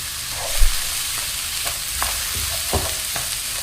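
Rice and garlic frying in a pot are stirred with several scraping strokes of a utensil, set against a steady, close sizzle.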